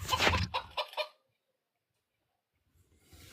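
A chicken clucks in a quick burst of several sharp, close calls over about a second, followed by silence and then faint rustling at the end.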